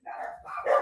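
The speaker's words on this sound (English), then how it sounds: "the dogs wanted to say hi" Dogs bark close by, a quick pair of loud barks in under a second, the second rising sharper.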